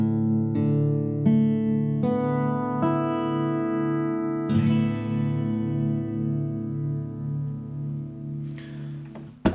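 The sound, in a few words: acoustic guitar open strings in drop D tuning, G string tuned to A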